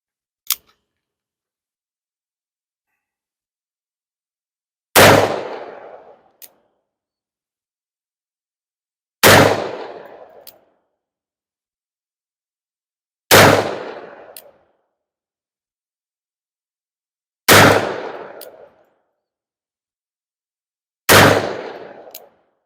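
Five loud, sharp shots from a Colt 1851 Navy .44 caliber revolver with a 3-inch snub nose, fired one at a time at an outdoor range with long pauses between them, each cracking hard and then ringing away.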